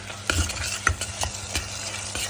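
Eggplant bharta is stirred in a sizzling pan, a spoon scraping in repeated uneven strokes over a steady frying hiss, close by.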